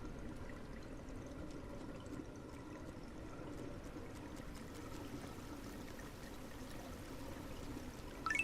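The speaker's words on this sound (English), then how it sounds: "That amount of water coming out of that little tube." Water gushes from a small, narrow tube in the video game Drain Sim, a steady, faint rushing stream that keeps flowing without a break.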